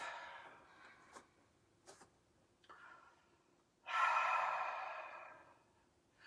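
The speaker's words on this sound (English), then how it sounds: "Final cleansing breath." A long, steady exhaled breath in a yoga class, the final cleansing breath, rising as a broad breathy rush after a few faint clicks and small sounds, then fading out slowly in a quiet room.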